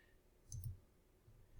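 A computer mouse gives two quick, quiet clicks in close succession, then a fainter click or two in an otherwise hushed room.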